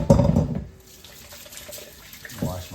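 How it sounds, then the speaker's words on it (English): Tap water runs into a kitchen sink as hands are washed after shaping salmon croquettes, a loud splashing burst at first that drops to a quieter trickle, then swells again near the end. "Wash my hands."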